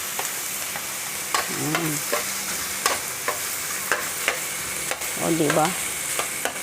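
Pork frying with garlic and onion in a pan, a steady close sizzle broken by scraping stirs of a utensil, while someone speaks briefly a couple of times over it.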